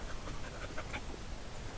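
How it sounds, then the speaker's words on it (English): A dog pants quietly and rapidly nearby outdoors, with short rhythmic breaths repeating over a soft background hiss. "There's my dog right there."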